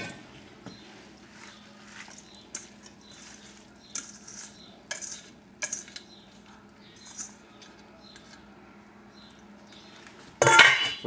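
Seaweed cucumber salad is tossed in a bowl, giving soft, irregular wet stirring and light clinks of utensils against the dish, quiet and close. A louder burst of handling sounds comes at the end.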